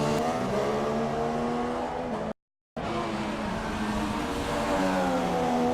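Racing cars, a Red Bull and a Manor battling on the Russian Grand Prix circuit in a racing game, loud high-revving engines with rising pitch sweeps, cut by a brief silence, then more engine roar.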